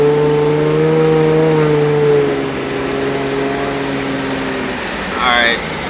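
Infiniti G35 Coupe fitted with Megan Racing test pipes and the stock muffler accelerates with the windows down, a fairly quiet steady exhaust drone rising in pitch, then easing off.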